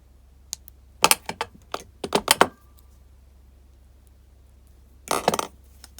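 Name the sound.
cutting off the wire tail end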